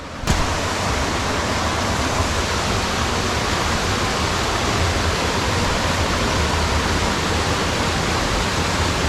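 Rio Seco Falls near Salybia on a muddy nature trail: a steady, loud, broadband roar of falling water fills the whole stretch without a break and with no voices.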